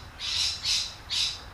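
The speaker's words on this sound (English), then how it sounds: "I don't know if you can hear the birds making all that noise" Three loud, high-pitched squawking bird calls ring out outdoors in quick succession, each a sustained harsh cry separated by brief gaps.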